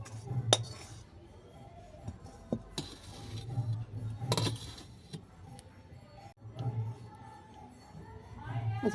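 A pot lid set down over biscuit crumbs while laddu are made in a home kitchen: scattered metallic clinks and clatters of cookware against a quiet background, with a voice talking softly now and then.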